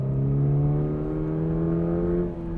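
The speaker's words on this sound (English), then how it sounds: "I do find this engine clatters a bit like a diesel" A 2022 Subaru BRZ engine idling in neutral with a steady, slightly clattery diesel-like hum, continuous and close, holding level before easing off near the end.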